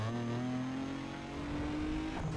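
A car engine in Need for Speed Underground revs hard in second gear, its tone climbing steadily under acceleration, loud and close, with a brief shift or dip near the end.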